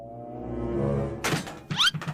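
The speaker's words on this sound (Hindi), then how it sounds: "तेरा ट्रक तो टूट गया" A cartoon toy truck crashes and breaks: a rising tonal whoosh gives way to a sharp thunk, then a quick burst of clattering, shattering impacts, close and loud.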